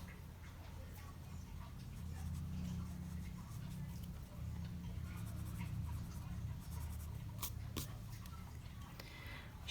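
A pencil draws and shades lips on paper in soft, scratchy strokes, quiet and close over a low background hum.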